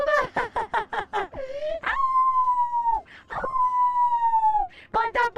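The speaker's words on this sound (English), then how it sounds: "oh, but the puppy! It's a puppy! A husky?" A husky puppy in the video game Code Vein II gives long, clear howls, two drawn-out tones separated by short yips and whimpery barks, close and prominent.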